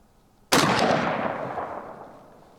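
A single rifle shot from a Mini-14 or AR-15 cracks loudly outdoors, followed by a long rolling echo that fades over about two seconds.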